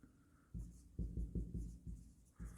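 A pen writes on paper in quick bursts of close scratching strokes, soft and intimate, with short pauses between them.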